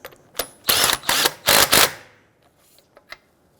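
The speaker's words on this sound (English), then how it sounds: "Go ahead and torque down your lug nuts to 80 foot-pounds." Lug nuts on a 2008–2013 Infiniti G37 are torqued down using a locking key, producing a few quick bursts of harsh metallic ratcheting clicks close by, followed by a couple of faint taps.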